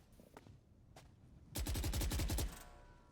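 Rifle fire in a Valorant esports match crackles out as a rapid automatic burst of roughly a dozen sharp shots, loud and close, preceded by a few isolated distant shots and quiet footsteps.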